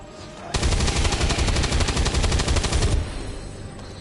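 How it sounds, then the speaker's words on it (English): Video game weapons fire one rapid, continuous automatic burst lasting about two and a half seconds, loud and close, then cut off abruptly with no voices. "Weapons burning ammo fast!"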